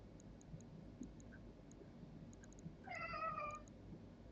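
A cat gives a single drawn-out meow near the end, moderately close, over a low steady room hum with faint ticking clicks scattered throughout.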